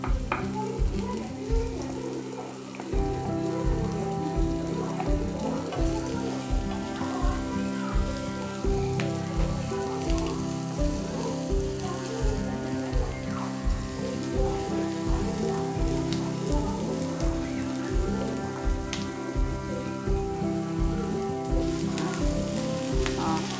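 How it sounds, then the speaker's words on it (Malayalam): Onions fry in oil in a wide-mouthed pressure cooker for a vegetable kurma, a steady close sizzle running throughout beneath a rhythmic tonal backing, with no talking. "സവാള ഇട്ട് കൊടുക്കാം"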